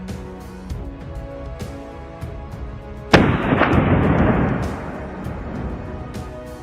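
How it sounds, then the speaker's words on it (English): A single loud rifle shot cracks out in pine cover during a wild boar hunt, a sharp report followed by a rolling, fading boom over faint outdoor background. "Boom! A powerful shot shattered the stillness."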